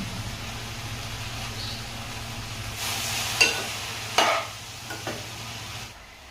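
A spoon scrapes and clacks through cabbage curry in a pan, a few sharp knocks standing out over a steady low hiss of cooking, with no talking.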